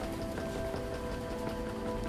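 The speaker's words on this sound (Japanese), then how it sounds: "今日ちょっと 雨なんで" Steady rain patters outside, a soft, even hiss of drops on surfaces heard faintly at a distance, unbroken and with no voices.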